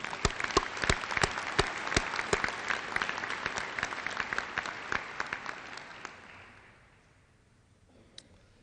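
A commencement audience applauds graduating engineering students with sustained, dense clapping from a large hall crowd that gradually thins and fades to quiet.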